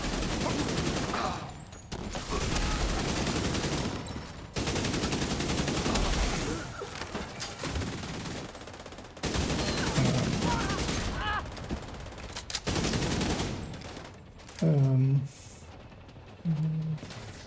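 Gunfire from the Scorpio weapon in a video game, loaded with special ammo, comes in loud rapid bursts of repeated shots separated by brief pauses, with a few short tonal effects near the end.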